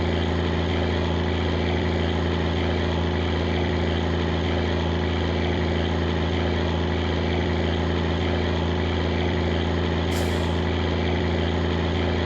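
A septic truck's engine in My Winter Car drones steadily and loudly for the whole stretch, a low, even rumble with a brief hiss near the end.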